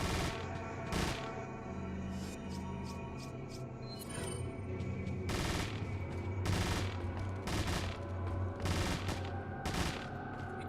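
Machine gun fire in the video game Resident Evil 4, with sharp bursts of shots recurring every second or so over a steady low rumble of game ambience, moderately loud and close.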